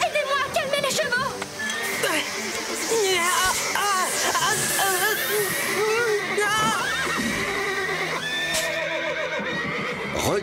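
Cartoon horses neigh and whinny in an animated ranch scene, with excited voices shouting over them and faint hoof clops amid busy, continuous commotion.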